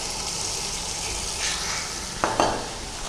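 Liver and rice mixture with a cup of yogurt, chopped lemon and cumin fries in a pot, a steady loud sizzle with a couple of sharp spoon scrapes against the pot near the end.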